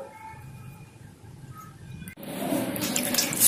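Water poured or splashed in a small amount onto chopped banana stem compost to keep it moist, a brief pour that starts abruptly and runs as a steady close splashing wash.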